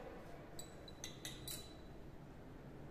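Titration solution swirled in laboratory glassware during an iron estimation in haematite ore, producing a few faint glassy clinks and chinks in a brief cluster over a quiet hissy background.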